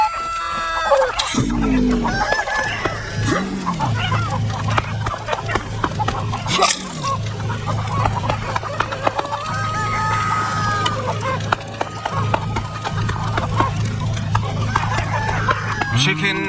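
Video game Pizza Bandit: chickens cluck and a rooster crows repeatedly amid busy game sounds and music, with a voice talking over much of it.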